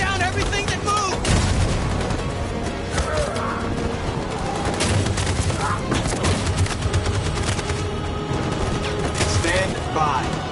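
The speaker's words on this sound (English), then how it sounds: "That machine gun is taking down everything that moves!" Dense, continuous battlefield gunfire in a war video game, with machine gun bursts and scattered booms filling the whole stretch, loud and busy, mixed with shouted voices and game chatter.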